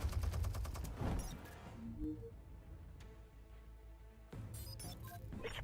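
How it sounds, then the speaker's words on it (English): An automatic turret in the Batman: The Telltale Series video game fires rapid bursts of gunfire, with a fast rattling volley at the start, sparse shots in the middle, and another burst near the end, fairly quiet overall. "Where did he get an automatic turret?"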